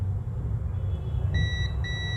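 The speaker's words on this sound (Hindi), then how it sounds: "अब देखिए यहाँ पर इस कैप पर दोनों साइड हमें बीप आ रहा है।" A multimeter's continuity tester on a capacitor in a mobile phone gives a thin high beep, sounding twice in a row with a short break, faint over a low background hum.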